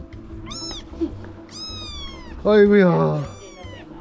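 Kittens at a cat farm meow several times in high, close cries, one longer and louder, while a person lets out exclamations in between.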